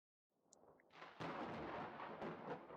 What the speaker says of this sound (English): there's a much louder boom than the one I caused as thunder rumbles outside